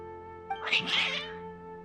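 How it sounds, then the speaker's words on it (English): Cats meowing in the video game Genshin Impact, a short burst of agitated, overlapping meows and yowls lasting under a second, heard over a steady hum of background game music. "Your cats seem pretty worked up."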